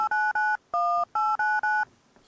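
Mobile phone being dialed: six distinct keypad tones beep in a quick, even sequence, close and clear, followed by a faint tail with no talk.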